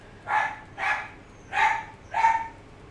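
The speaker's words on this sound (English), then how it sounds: "before the dogs completely take over the voice" A dog barks four times in an even, steady rhythm, each bark clear and fairly close, with short pauses between them and no other sounds.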